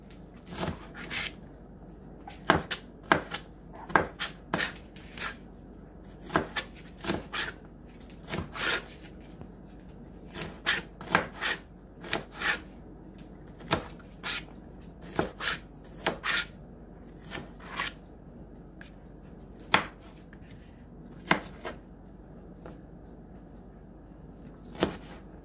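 Knife chopping vegetables on a cutting board while prepping ingredients for Mexican-style haystack dishes: repeated sharp chops in quick bursts with short pauses, close and fairly loud, no talking.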